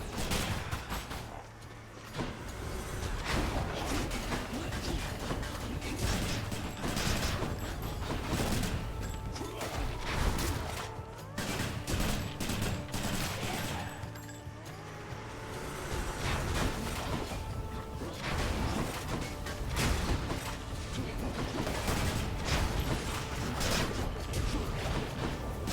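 A rail gun fires in the Hades video game in dense, rapid bursts of sharp mechanical shots. The bursts continue almost nonstop over busy combat sound effects, with no pauses.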